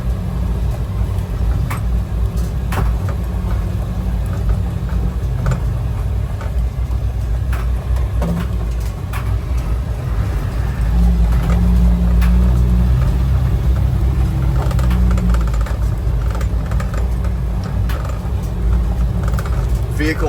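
An armored ambulance rumbles along on a test drive in Ukraine, its engine droning steadily and loudly with road noise throughout, a few knocks and rattles from the cabin mixed in.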